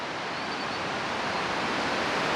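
River water rushes over the high shoals in Walton County, Georgia: a loud, steady, close wash of white noise that holds unbroken throughout, with no voices.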